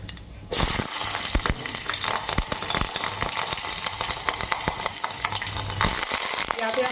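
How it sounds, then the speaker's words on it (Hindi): Mustard seeds crackling in hot oil for a tempering, a steady sizzle with sharp pops and stirring clinks close up, no talking. "यहाँ पे हम तड़के के लिए राई को डाल देंगे"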